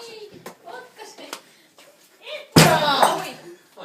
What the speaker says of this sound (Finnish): Potka se ovi auki!